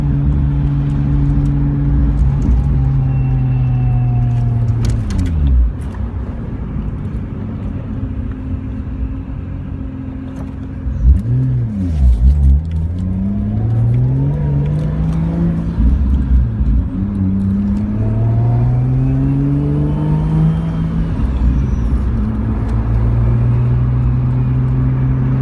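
A 1989 Toyota Supra with a swapped 2JZ engine drives along steadily, its low engine drone shifting pitch up and down through gear changes and throttle. The sound is close and continuous, with no talking.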